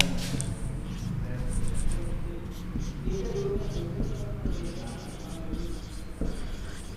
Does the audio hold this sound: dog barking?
no